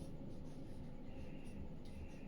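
Chalk scratching steadily across a classroom board as a geography teacher writes a point, a continuous dry rubbing texture that is fairly close and moderately loud, with no talk over it.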